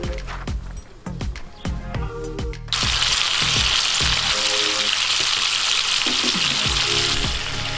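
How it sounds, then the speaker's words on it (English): Steaks fry in olive oil in a pan at a wild camping van stop, opening with clinks and knocks of utensils before a loud, steady sizzle takes over after they hit the pan. "That's the steaks just flipped over there, looking good."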